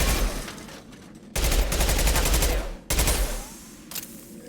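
Sustained automatic gunfire from a weapon in Mass Effect 2, two loud rapid bursts separated by brief pauses, dense and continuous with no voices over it.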